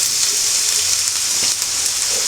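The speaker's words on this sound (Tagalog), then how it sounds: "Gigisa na natin tong bawang at sibuyas." Garlic and onion sauté in a small pan, sizzling loudly and steadily at close range. The bright frying hiss continues without a break.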